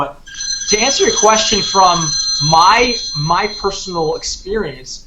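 Mobile phone ringtone, a steady high electronic tone repeating for several seconds under a person who keeps talking over it.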